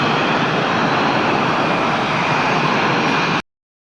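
An F-18 fighter jet flies overhead, a loud, steady broadband engine roar that holds constant for about three and a half seconds before cutting off abruptly.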